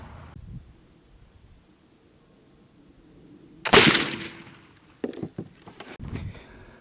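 A single sharp, loud black powder gunshot cracks out after a quiet stretch, its ring decaying, followed by a few scattered thumps and clatters nearby.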